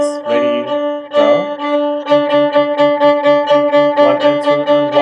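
A violin plays rapid sixteenth notes on the open D string after a couple of longer opening strokes, a quick even run of short bow strokes, close and loud with no voice.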